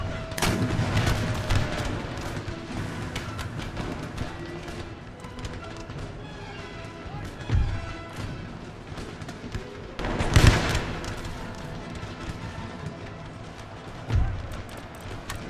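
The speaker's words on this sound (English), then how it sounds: "There goes that canister shot." Canister shot artillery in a battle of Empire: Total War, the American Road to Independence campaign, booming in several loud bursts over a dense, crackling din of musket fire and battle noise.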